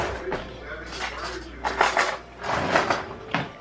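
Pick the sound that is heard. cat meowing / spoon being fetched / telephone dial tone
spoon being fetched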